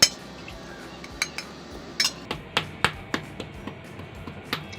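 A spoon mashes hot, freshly peeled boiled potatoes in a dish, making a steady run of light clinks and taps against the bowl over soft scraping. No one speaks.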